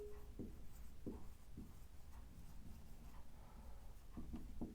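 Marker or chalk writing on a board during a Hindi electrical engineering lesson on DC motor starters, a series of short scratchy strokes in bursts, close and fairly quiet, with no talk.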